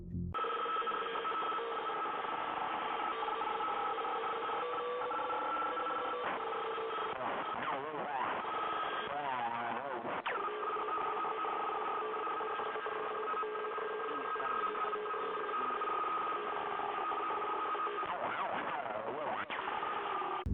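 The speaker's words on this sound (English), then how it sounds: "Mangle's garbling and static seem to be a police radio in some way" Garbled, band-limited radio static from the animatronic Mangle in FNAF 2, sounding like a distorted police radio: a continuous warbling, crackling stream of muffled voice-like chatter and electronic tones running steadily throughout.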